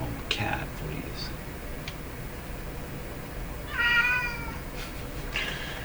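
A house cat gives a short meow partway through, heard over a steady background hum, with faint clicks and ticking around it.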